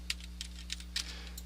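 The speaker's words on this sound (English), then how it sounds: "Over here you have to type" Light keystrokes tapped on a computer keyboard, five or six quick clicks spread irregularly over a steady low electrical hum, no voices.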